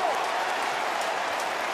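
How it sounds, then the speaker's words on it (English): Melbourne Demons fans cheering at a 2008 AFL football match against Hawthorn: a steady, dense crowd roar with scattered applause, unbroken throughout. "Demon fans getting something to cheer at the moment."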